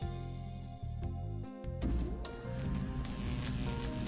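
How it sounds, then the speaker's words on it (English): Electrical sparks crackling from a cell phone wired to a microwave oven in the Steins;Gate video game: a buzzing harmonic hum breaks into loud, dense sizzling crackle that keeps going to the end, with no voices. "Sparks are flying everywhere."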